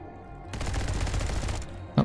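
Rapid gunfire rattles in a video game firefight, a dense burst of shots lasting about a second, followed by a single sharp thump.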